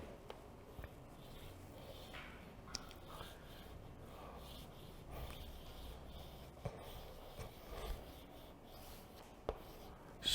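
Handwriting in traditional Mongolian script, a pen or pencil scratching softly and steadily across paper, quiet and close, with small rubbing strokes and occasional light taps.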